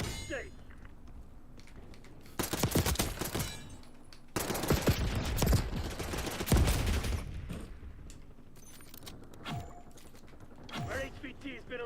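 Gunfire rattles through a video game firefight in several loud, dense bursts with metallic clangs, separated by quieter gaps with scattered single shots.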